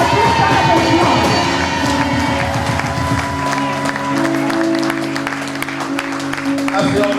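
A crowd rises and cheers loudly, with shouts, whoops and clapping blending into a dense roar, while excited voices cut through and the noise gradually thins toward the end.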